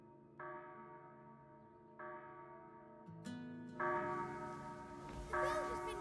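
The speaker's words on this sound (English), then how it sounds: "The bell has been rung." A large bell is struck repeatedly in the video game Crimson Desert, each strike ringing out with rich, sustained overtones that layer over one another and build into a swelling, resonant toll.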